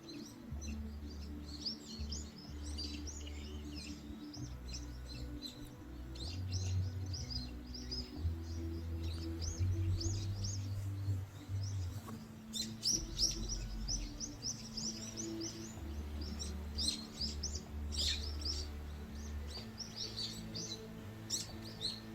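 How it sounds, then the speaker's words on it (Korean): Many small birds chirp and tweet around a persimmon tree heavy with fruit at Geonbongsa temple in Goseong, Gangwon, in early winter. Bright calls come in scattered bursts from several directions over a low steady hum, with no voices. "이렇게 맛있는 감나무 주변에는 많은 새들이 날라와 있고요"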